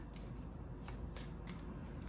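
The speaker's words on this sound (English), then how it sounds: "I will do a few more shuffles on camera" A deck of tarot and oracle cards being shuffled by hand: a continuous soft papery riffling with several brighter flicks and slaps, close and steady, with no voices.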